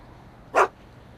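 A single short, sharp bark from Einstein the dog in a Back to the Future video game, close and clear against a quiet background, with the start of another bark at the very end.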